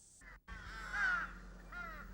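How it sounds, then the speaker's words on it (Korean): Crows caw on Jeju island. A couple of hoarse, drawn-out calls come from fairly close by, with a louder, rising caw in the middle. The calls stand alone over a faint outdoor background. "원래 제주의 터줏대감은 까마귀다."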